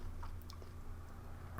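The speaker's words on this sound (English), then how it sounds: "the lotus root has a bit of crunch to it still" Crunchy lotus root from a Chinese PLA Navy 24-hour ration being chewed close up, with soft repeated bites and crunches over a steady low background hum and no speech.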